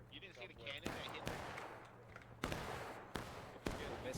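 Cannon fire in a Civil War battle video game: several sharp booming reports at irregular intervals over a background of scattered gunfire, fairly faint and distant.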